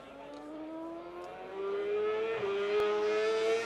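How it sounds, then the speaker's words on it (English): A BMW 1000cc RR race motorcycle launches down a straight on a top speed run, its engine note climbing steadily through the gears with a brief dip at a shift, heard from some distance. "Bike 31 having just launched now, that is Lance Kasuji on a similar BMW 1000cc"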